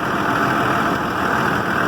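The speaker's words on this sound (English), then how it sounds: "warm up the engine about 15 minutes" A vehicle engine idling while it warms up, a steady low rumbling drone held at an even level from start to finish, close and fairly loud with no voices.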